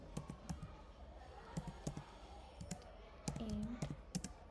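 Code being typed on a computer keyboard, with sharp, close keystroke clicks arriving in uneven clusters and a faint voice-like hum between the strikes.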